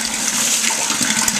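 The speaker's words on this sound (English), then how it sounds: "you can see the water just coming out here. So I like to run it in here and just kind of let it fall back down in" Pumped spring water pours steadily back down into a pond, a loud, close, continuous splashing rush with no pauses.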